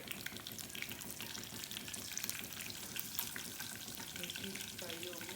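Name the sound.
green chillies frying in a pan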